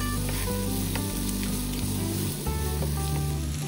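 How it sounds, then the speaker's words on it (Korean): Cuttlefish and vegetables stir-frying with soy sauce in a pan: a steady, loud, close sizzle and crackle with soft scraping of stirring, heard alone with no talk. "이렇게 간장을 넣어서 볶으면 야채들의 풍미가 훨씬 좋아지거든요."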